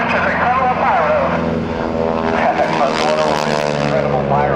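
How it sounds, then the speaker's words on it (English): An airshow aerobatic airplane flown by Bill Leff at NAS Oceana roars loudly through a 4G high-energy turn, its engine drone sustained and strained, with an announcer talking over it. "Bill Leff pulling a 4G high energy turn, pulling that stick back into his lap."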